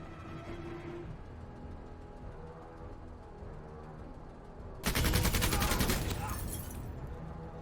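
Dense automatic gunfire in the MENACE video game bursts in loud and continuous for about two seconds over a quieter background of game sounds, then drops back to a low hum.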